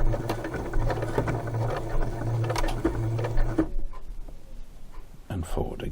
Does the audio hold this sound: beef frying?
no